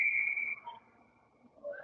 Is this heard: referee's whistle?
yes